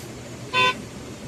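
A single short car horn toot sounds over a low traffic hum in a long queue of vehicles jammed at the Kiratpur toll plaza on the Manali–Kiratpur highway.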